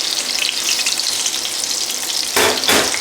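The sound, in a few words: fish and chips pan frying in hot oil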